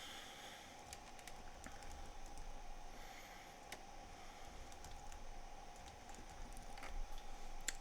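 Quiet, scattered keystrokes on a computer keyboard typing a project name, soft irregular clicks over a steady low hum, no talk.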